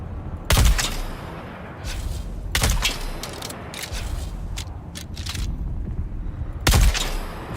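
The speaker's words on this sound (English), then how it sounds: "I wonder, can I hit him from the shotgun up here?" Three loud, booming shotgun blasts in the video game Dune, spaced a couple of seconds apart, with scraping and crackling game sounds filling the gaps between shots.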